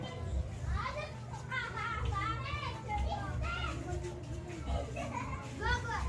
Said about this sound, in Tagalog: May ingay yung mga bata sa labas.